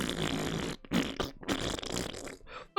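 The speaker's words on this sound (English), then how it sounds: "I just couldn't stop farting!" Cartoonish farting in the video game A Kiss for the Petals, a run of loud, sputtering bursts with brief gaps between them, close and alone without speech.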